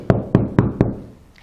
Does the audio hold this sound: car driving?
no